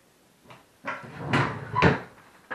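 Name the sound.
drawer opening and closing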